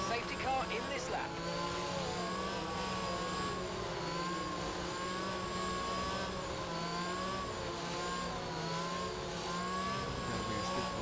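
Formula 1 race cars in the F1 22 video game accelerate together as a pack after a safety car period, a steady mid-pitched engine whine and revving that holds evenly throughout, with a voice talking faintly underneath.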